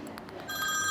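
A telephone ringing in a UK home, its bright electronic trill starting halfway through and holding steady and fairly loud, after a few soft background sounds.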